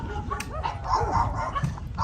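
Several dogs barking and yipping at a home near a port in Barotac Viejo, Iloilo, Philippines, in an uneven run of close yaps and whimpers over the full stretch, with some background noise.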